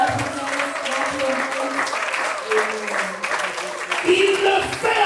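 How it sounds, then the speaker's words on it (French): A church congregation at a prayer gathering applauds and cheers loudly and steadily, with voices mixed into the continuous clapping throughout. "Est-ce que quelqu'un qui croit peut l'acclamer très fort?"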